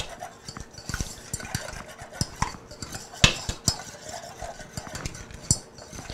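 A whisk beats oil, sugar and two eggs together in a bowl, with quick irregular clinks and stirring taps against the sides at a steady close, moderate level.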